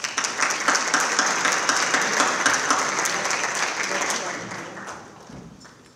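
Audience applause welcoming a speaker at an honors event, a dense crowd of clapping hands that holds steady and then fades out toward the end.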